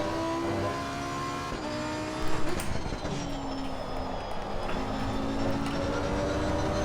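A race car engine in the Assetto Corsa Competizione driving game howls and shifts through gears on the Monza circuit, revs climbing and dropping in a steady run of acceleration, with no speech.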